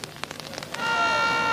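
Rain comes down on a protest camp of peasant farmers in Bogotá. A run of brief patters and drips builds into a dense, steady hiss of falling rain.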